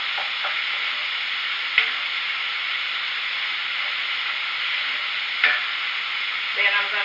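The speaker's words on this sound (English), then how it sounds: "And now I'm going to stir all of these ingredients together. And as this shrimp and lobster gets to cooking," Shrimp and lobster sizzling loudly in a hot pan as they are stirred, a dense steady frying hiss with a few sharp utensil clicks against the pan, close and without talk.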